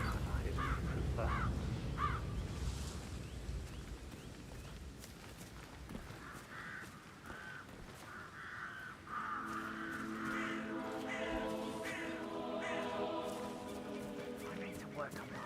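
Crows caw repeatedly in a video game, with short harsh calls layered over steady game ambience and a voice talking throughout.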